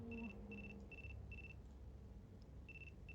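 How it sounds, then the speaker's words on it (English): A phone ringing in the video game Chaos;Head Noah: a faint electronic trill repeating in short, evenly spaced bursts, pausing briefly and then resuming, with no one speaking. "He had been cut off by the sound of his phone, coming from within his suit pocket."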